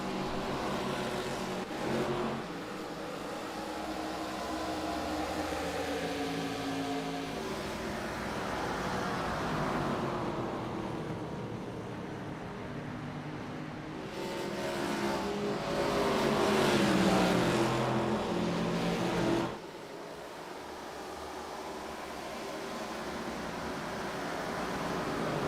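Simulated ARCA Series race cars roar around New Hampshire in the iRacing game, a steady dense engine drone with cars swelling past, one loud surge peaking then cutting off sharply.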